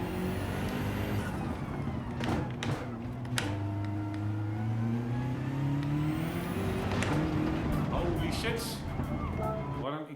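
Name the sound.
car engine revving in the video game Gran Turismo 7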